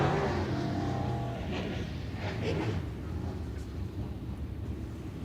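A sprint race car at Mississippi Thunder Speedway roars through a qualifying lap out of turn four, a dense, steady engine drone heard at a distance with wind buffeting the microphone.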